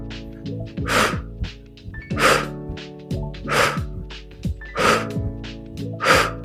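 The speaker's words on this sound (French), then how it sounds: "Inspirer, souffler et on va mettre de la vitesse." During cardio exercise, a person breathes fast and rhythmically, close and clear: sharp, forceful breaths in and out repeat in a regular pattern, with no talk.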